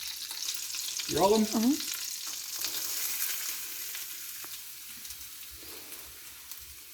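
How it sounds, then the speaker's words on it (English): Shredded potato and onion frying in a hot skillet, a soft steady sizzle and crackle under a short exchange between two people, the frying fading slightly quieter toward the end. "I'm just getting the shredded potato and the shredded onion into the pan"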